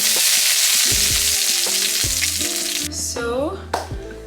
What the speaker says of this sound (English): So now we're gonna quickly cook some of these chilies.